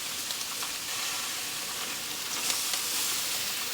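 Shrimp sizzling on an oiled grill as they are flipped, a steady soft hiss with faint crackles, close and even throughout, no voices.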